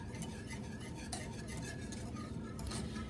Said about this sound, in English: you're just going to keep stirring this constantly until the mixture thickens up